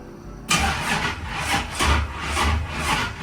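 A low-mileage Buick T Type cranks and fires up on a weak, just-charged battery, a loud close engine start with a rough rhythmic churn settling into a steady idle, no talk.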